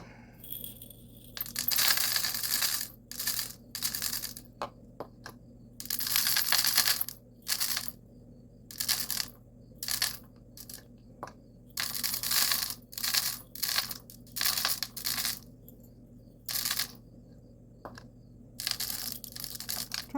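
Colored glass pieces are dropped into a jar in bursts of bright clinking and rattling, clustered handfuls separated by short pauses, close and fairly loud over a faint steady hum.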